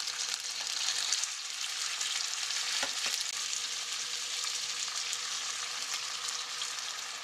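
Skin of a red sea bream fillet, scored with cuts, sears in a hot pan with a loud, steady, dense sizzle that runs unbroken throughout, close up.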